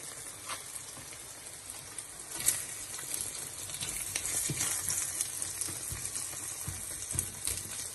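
Salt-fish and spinach egg omelette frying in a pan, a steady close sizzle with small crackles and occasional louder pops and stirring scrapes, no talking.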